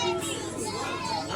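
Children playing noisily outdoors in Libertad, a brief burst of high chattering kids' voices close by, loud and continuous.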